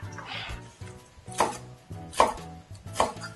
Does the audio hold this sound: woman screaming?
no